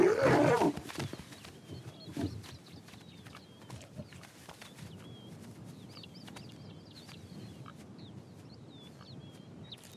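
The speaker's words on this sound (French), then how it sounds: "ce gros lion solitaire s'est emparé de la prise des hyènes" A big solitary lion that has taken the hyenas' kill gives a deep, loud growling roar at the start and a shorter rumble soon after, followed by a quiet stretch with faint birdsong.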